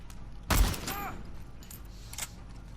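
A single loud gunshot from The Last of Us Part II, with a sharp boom followed by a fading tail and game sounds, then a softer second impact later.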